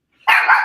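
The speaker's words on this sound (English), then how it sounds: "We got Porky in the background barking" A dog named Porky barks once, a short sharp bark with a brief whine trailing into it, fairly close and loud with no talk over it.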